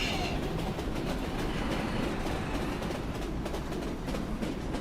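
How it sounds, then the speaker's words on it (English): A train in the war video game Foxhole rumbles past, loud and close, with a steady, dense roar of wheels and rolling cars that holds without a break. "Hey, a train!"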